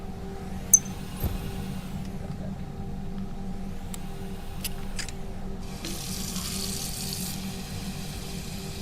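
A water filler runs into a canteen in the survival video game Hiraeth: a steady close stream of filling water with a few sharp clicks early on, then a brighter, louder hissing gush near the end.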